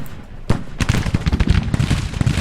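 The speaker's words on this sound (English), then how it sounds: "We need this infantry unit firing at that approaching Confederate unit." Civil War infantry volleys crackle in Grand Tactician: The Civil War, a loud sharp report followed by a dense, ragged ripple of musket shots layered close together.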